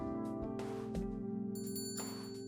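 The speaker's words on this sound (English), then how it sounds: "Enter store and the sound of a bell alerting the staff to my arrival" Shop entry bell in the game Angels with Scaly Wings rings out as bright, repeated metallic chimes over a sustained tonal background, ringing twice with short decays.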